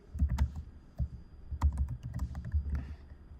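Someone types a paragraph on a computer keyboard in soft, uneven bursts of clicking keystrokes at close range, with short pauses between runs and no talking.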